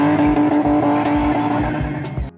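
Car spinning in a South African motorsport stunt: a steady, loud engine drone with a sustained pitched whine, broken by repeated low surges and brief tire scrubs, continuous and close throughout.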